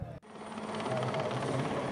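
Rooivalk attack helicopter at a South African National Defence Force military display, a steady loud rotor and turbine roar that swells up after a brief dip and holds close and continuous.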